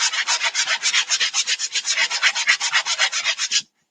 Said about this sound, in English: I'm going to very lightly sand that a little bit